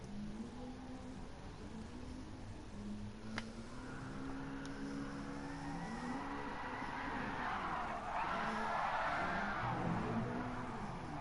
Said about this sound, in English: Good drift for both